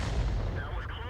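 A tank gun fires in the World of Tanks video game, a single heavy boom that decays into a rumbling tail, with a voice speaking over it.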